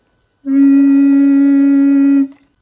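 Voice flute, a low recorder, sounding its lowest note D as one long steady tone, warm and full, held for about two seconds in quiet surroundings.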